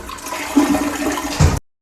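A toilet with a water-saving flapper flushes nearby, a loud steady rush of swirling water that surges near the end and cuts off abruptly as the valve closes.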